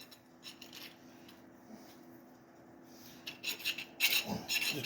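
A hand file rasps along the sharp edges of a metal tube drilled with a 3/8 concrete bit. The strokes start quiet and scratchy, then turn louder and brighter in short bursts toward the end.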